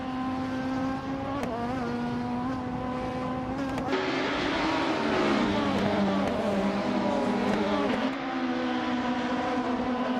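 Race cars racing, engines droning and whining in overlapping tones that rise and fall as cars accelerate and shift, staying loud and continuous throughout with no talking.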